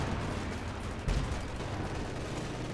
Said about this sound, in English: Although enough bazooka fire pushing back the Panther.